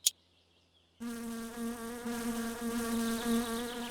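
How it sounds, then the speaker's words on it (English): Several mosquitoes whine close around the head in the video game My Summer Car, a sharp click followed by a sudden continuous buzzing drone that wavers in pitch and loudness. "there are multiple mosquitoes swarming my head right now"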